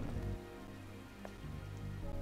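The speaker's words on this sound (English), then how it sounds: "This must be Earth's rain." Rain falls in the video game Stellar Blade, a steady, dense hiss of drops over a low rumbling background, heard on its own.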